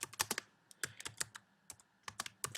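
Typing on a computer keyboard, a quick irregular run of crisp key clicks in short bursts with brief pauses, close and clear with no voices.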